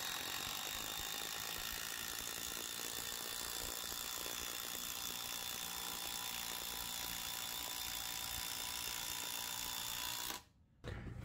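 A DeWalt Max impact driver runs on a dyno, giving a loud, steady mechanical whir and rattle that holds for about ten seconds before cutting off abruptly.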